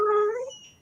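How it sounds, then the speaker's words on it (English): A cat meowing for food at feeding time, one short, clear, close meow that falls away within a second. "Mr. Needy's getting started because he knows it's about time I feed the cats"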